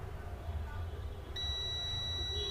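A multimeter continuity tester emits a sustained high steady beep when its probes touch a point on a Vivo V25 Pro phone circuit board, starting partway in and holding to the end over low background noise.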